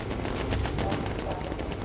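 Rapid bursts of gunfire in the Bomber Crew air-combat video game, a dense regular rattle of shots running through the whole moment.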